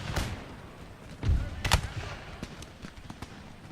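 Cannon artillery booming in Empire: Total War, a few sharp blasts with scattered crackling shots spread over the battle, mixed with background noise.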